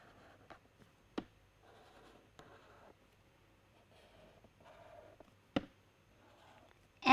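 Pen strokes on paper while sketching the fused sepals of a flower, with soft scratchy bursts and a few sharp taps spread over several seconds, close and quiet, with no talk.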